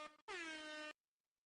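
A loud, steady horn blast from a car or truck, one short toot followed by a long sustained honk of under a second, then silence.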